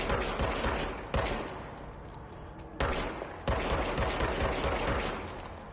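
Sustained automatic gunfire in the video game Control, loud dense bursts with brief gaps between three long strings of rapid shots, no talking.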